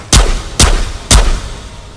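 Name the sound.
shotgun fired one-handed in Ghosts of Tabor VR video game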